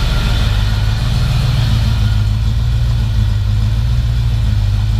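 A Camaro with shorty headers and a true dual exhaust with glass packs idles after a cold start, having sat unused for a couple of months: a loud, continuous deep rumble that stays close and steady.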